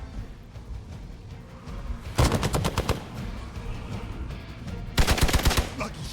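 Automatic gunfire in the video game Marvel's Midnight Suns, two loud, rapid bursts of evenly spaced shots separated by a quieter stretch of rumbling background.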